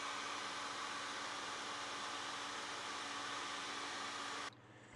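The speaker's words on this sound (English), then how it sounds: "We blew dry it clean" A handheld blow dryer drying a washed chalk transfer stencil runs as a loud, steady, close rush of air for several seconds, then switches off abruptly near the end, leaving quiet.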